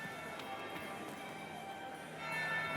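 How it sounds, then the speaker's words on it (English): In the video game Dragon Age: Inquisition, a bell rings faintly in the distance under a quiet, hollow ambient backdrop, with a few soft tolls and a slight rise in noise near the end. "That would be the second bell."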